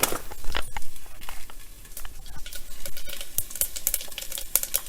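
Mustard seeds, cumin and red chillies fry in oil over a low flame, giving a close, steady crackle with sharp pops and a spoon stirring and scraping the pan throughout.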